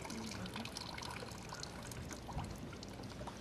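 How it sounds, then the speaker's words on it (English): Water pours and trickles steadily during a rinse at a French heritage festival. The flow is faint and continuous, with a hiss and splash running under low background noise. "We got to rinse them well today."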